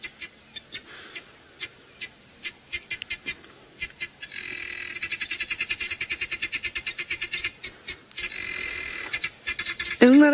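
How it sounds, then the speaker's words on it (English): Guinea fowl chatter from long grass in a rapid, repetitive run of harsh clicking calls that grows into a dense continuous rattle, with a brief squawk at the end. "I'm quite fond of the sound of guinea fowl."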